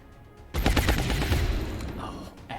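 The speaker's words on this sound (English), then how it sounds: "Oh, excellent shooting there, Yoshia." Soldiers' rifles open fire in XCOM: Long War, a sudden loud burst of rapid overlapping shots that rattles on for about two seconds, then tails off before another sharp report.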